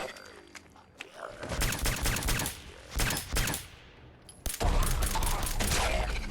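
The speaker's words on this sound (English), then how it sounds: "had an issue shooting the ghoul there" Bursts of gunfire aimed at a ghoul in the post-apocalyptic game Fallout 4, several loud volleys separated by short quiet gaps, with a sustained barrage near the end.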